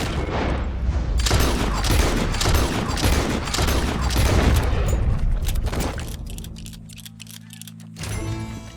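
A rapid volley of close gunshots rings out in the Red Dead Redemption 2 video game, loud repeated cracks over several seconds, then a pause, a low mechanical hum, and one last burst.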